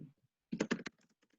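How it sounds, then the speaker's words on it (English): A computer keyboard being typed on in short bursts: a quick cluster of clicky keystrokes, then a few lighter scattered taps, close and clear. "while he's typing"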